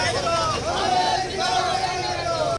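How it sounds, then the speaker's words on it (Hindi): Protesters carrying torches through the streets at night, a dense crowd din of shouting and chanted slogans, loud and continuous, with overlapping voices throughout. "हाथों में मशाल लिए लोगों ने ऊंची आवाज में नारेबाजी करके अपनी सरकार को भी कड़े शब्दों"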